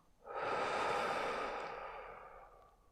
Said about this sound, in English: Take a deep breath in and release all that now.